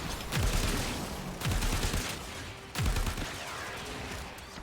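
A gun fires in Warframe, in three loud bursts of rapid shots, each trailing off into echoing reverb before the next.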